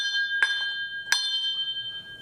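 A small antique store bell rings twice, each a sharp bright strike followed by a long sustained metallic ring, close and clear with no talking.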